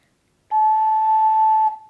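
An ocarina plays a single pure, steady A note that holds for just over a second and then stops, clean and alone.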